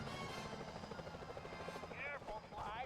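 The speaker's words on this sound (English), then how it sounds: "Careful, Sly. Those security choppers are bad news." Security helicopters in the Sly Cooper: Thieves in Time video game whir with a steady, continuous rotor drone that fills the whole clip, with brief warbling electronic tones near the end.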